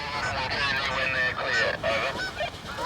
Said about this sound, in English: Hey, there's a family of geese.